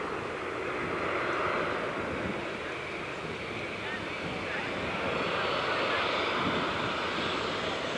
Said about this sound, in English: this final landing will be made at about 65 knot final approach speed